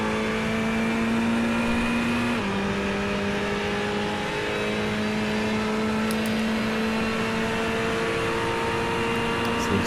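GT3 race car engines in a sim racing game at Le Mans hum steadily at high revs with a continuous droning whine and one brief gear-shift dip, heard without any talk.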